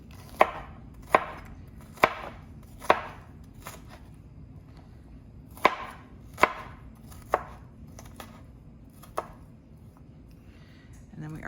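A knife chopping a red onion on a cutting board, sharp distinct knocks spaced unevenly with short pauses, up close, with faint background sound between strokes.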